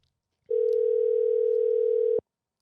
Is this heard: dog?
no